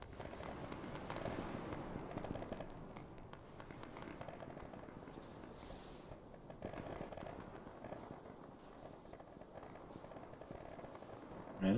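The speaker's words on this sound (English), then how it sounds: "Man, there's some shooting going on" Arma 3 battlefield gunfire: a steady wash of distant shots and crackling bursts rolling on without pause, mid-level throughout with no talking.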